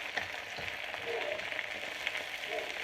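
Dim sum frying in oil in a pan, a steady close sizzle and crackle with occasional scraping stirs, no talking over it.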